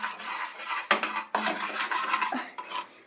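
A spoon scrapes and clinks around a cooking pot, stirring a mixture being browned to a golden colour, with steady, continuous scraping and a few sharper knocks, close and fairly loud.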